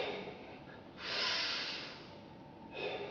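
Audible breaths during a Goju-ryu karate breathing exercise, with a long, forceful nasal inhale followed by a softer exhale and the start of another inhale, close and fairly loud with no talking.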